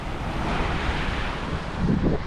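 Wind buffets the microphone on a white-sand beach in Cambodia as surf washes in nearby, a loud continuous rushing roar with a slight swell near the end and no talk.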